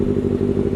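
A Kawasaki Ninja ZX6R with an M4 aftermarket exhaust, a loud, close, rumbling engine burst with a rapid clattering pulse, lasting under a second.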